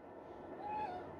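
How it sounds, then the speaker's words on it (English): Pippin the cat gives a single short, faint meow indoors over a quiet background hum. "Cat!"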